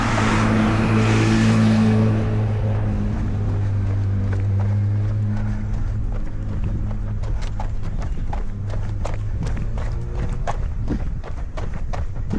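Road traffic passes close on a route taken during a trail run: a vehicle's engine rumble swells and fades at first, then footsteps and scattered ticks continue over a low traffic hum.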